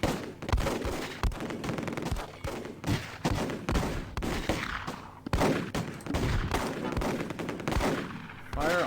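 Gunfire in the war strategy game Close Combat: dense, overlapping bursts of rifle and machine gun shots with sharp repeated cracks and thuds, loud and nearly continuous throughout.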